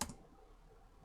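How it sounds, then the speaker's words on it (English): A single sharp click of the Enter key on a computer keyboard comes right at the start. It is close and crisp, then fades into quiet room hiss. "press enter on your keyboard"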